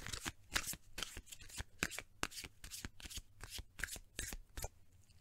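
A deck of tarot cards being shuffled by hand, close and crisp, with repeated riffling bursts and flicks in an uneven rhythm, no talking over it.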